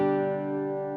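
A single sustained G note on an acoustic guitar rings out clearly and alone, decaying slowly over about a second, rich in overtones.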